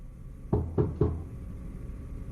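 Three quick knocks on a closed office door, evenly spaced and close by, each a sharp wooden rap in a quiet room, with no voices.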